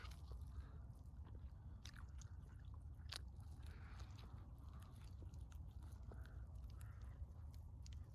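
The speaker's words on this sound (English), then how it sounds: "We might have to chew around that fish." Tough, fire-roasted squirrel meat being chewed up close, with repeated biting and squishy mastication over several seconds against faint outdoor ambience and occasional distant bird calls.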